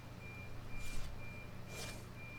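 Beeping of a turn timer in the digital card game MTG Arena: a steady high tone with two brief bursts of broadband noise, over a low background hum, with no talking.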